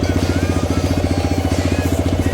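A TVS Raider 125 motorcycle idles in neutral nearby, its engine putting out an even, rapid low chugging pulse with steady rhythm and no voices.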